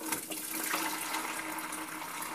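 Kombucha poured through a chinois strainer, a steady, loud, continuous splashing rush of liquid falling through mesh, with no voices.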